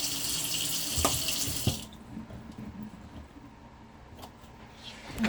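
Tap water pours in a hissing stream into a cooking pot for about two seconds, then cuts off, leaving quiet kitchen clatter and a few small knocks.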